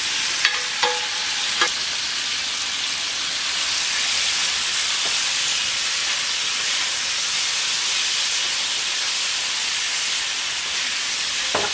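Cooked potatoes tumble into a frying pan of melted butter with a few sharp knocks at first, then a loud, steady sizzle hisses on without a break.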